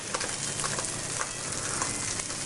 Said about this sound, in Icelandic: Af því að við erum bara að steikja hann og svona.